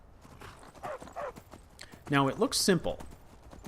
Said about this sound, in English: So we go down and hop a horse